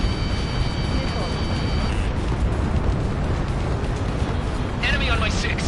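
Missile explosions and dense combat noise in the flight game Ace Combat 7, a continuous loud rumbling barrage with bursts, while warning tones and voices sound over it.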